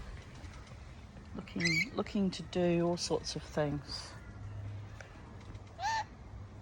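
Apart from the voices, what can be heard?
pet rainbow lorikeet named Charlie calling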